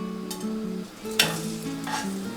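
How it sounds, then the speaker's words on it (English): Salmon fillets seasoned with salt and pepper sizzle skin side down in a pan over medium heat, a steady crackling fry with light stirring noises beneath continuous background music. "We're going to place them on the pan with the skin side down"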